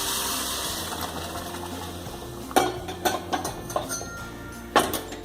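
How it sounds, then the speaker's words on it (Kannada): Hot boiling water poured slowly into tomato-onion uppittu masala in a pan, with a steady wash of liquid pouring and sizzle, then several sharp clinks and scrapes of a utensil against the pot, close and fairly loud. "ಈಗ ನಿಧಾನಕ್ಕೆ ಬಿಸಿಯಾಗಿರೋ ನೀರನ್ನು ಕುದಿ ನೀರನ್ನು ನಿಧಾನಕ್ಕೆ ಇದಕ್ಕೆ ಹಾಕ್ಕೊಳ್ಳೋಣ"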